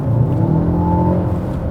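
Mercedes car engine revving in sport driving mode, a loud, close, rising drone heard from inside the car with no talking.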